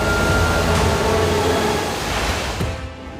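Released dam water of the Yamuna river roars in a steady, loud broadband rush, continuous throughout and easing slightly toward the end.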